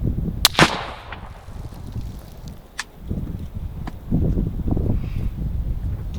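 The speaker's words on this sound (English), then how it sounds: "we're going to take a cold bore round right dead center" A single sharp cold-bore rifle shot from a 22 ARC cracks out near the start, followed by a second fainter report and quiet outdoor ambience with wind and faint movement.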